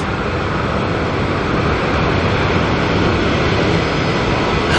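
An Antonov An-124 cargo plane lands at Auckland Airport with a loud, steady, broadband jet roar that holds evenly throughout and has no voices over it.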